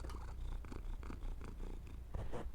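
A pet cat purrs close to the microphone in a steady rumbling rhythm of repeated breaths, continuous over low room noise.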